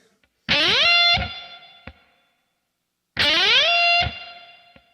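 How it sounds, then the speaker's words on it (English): An electric guitar note on the B string is struck and slid all the way up to the 19th fret, a distorted rising whine played twice with a pause between, each ending in a brief squeal, with echo. "I'm going to strike it and slide it all the way up to the 19th fret of the B string"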